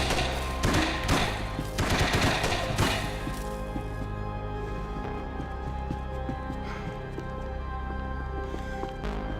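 Gunmen shooting in Max Payne 3 unleash loud, rapid bursts of gunfire in the first few seconds, followed by scattered fainter shots and thuds over a lingering low rumble.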